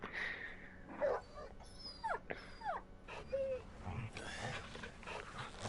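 Torgal, the dog in Final Fantasy XVI, whimpers in short, high whines and yips, several rising and falling cries across a few seconds, fairly faint, with game sounds in the background.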